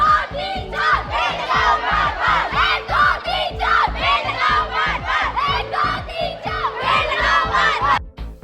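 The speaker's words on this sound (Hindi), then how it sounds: "स्कूली बच्चों ने स्लोगनों और नारों के माध्यम से पर्यावरण को बचाने का" School children chant slogans in unison at an environmental awareness rally in Hamirpur, rhythmic loud group shouts repeating in regular bursts, close and energetic throughout.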